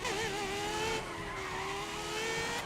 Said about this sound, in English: I'm gonna do a full stop braking, okay.